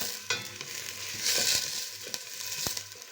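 Chopped onions sizzle and fry in a pan while being stirred for green beans with meat, a steady close hiss with scraping stir strokes and a few sharp utensil knocks against the pan.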